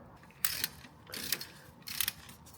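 A ratchet tightens the big end bearing cap bolts on a Renault R16 engine, giving three short bursts of quick clicking at a close, quiet level with pauses between them.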